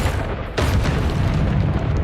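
A loud, sustained blast from the Confringo fire spell in Hogwarts Legacy, a booming explosion that hits about half a second in and rumbles on densely to the end.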